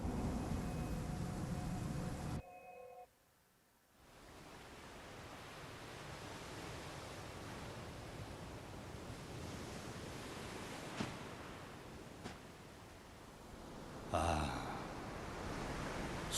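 Ocean surf in Bloodborne: The Old Hunters, a steady broad wash of waves rolling in the distance, broken by a brief drop near the start and a sharper surge later, with no voices.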